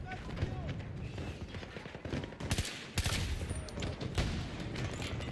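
Gunfire in a shooter video game: dense, continuous volleys of automatic weapons crackle loudly throughout, with a few especially sharp, heavy shots standing out partway through.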